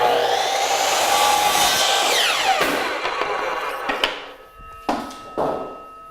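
Saw making a straight cut through wooden trim, a bright rasping whine that winds down, followed by a few sharp knocks and clatters.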